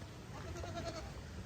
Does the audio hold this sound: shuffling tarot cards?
no